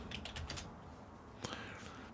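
Keys clack on a computer keyboard at a desk, a quick burst of a few taps followed by a couple more isolated strokes, close and fairly quiet.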